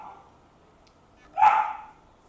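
A puppy eager to go outside lets out a single sharp, close bark after a moment of near silence, alone with no talk.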